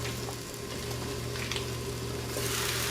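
Corn tortillas frying in oil in a pan for migas give a steady, close sizzle with a low hum beneath, brightening slightly toward the end.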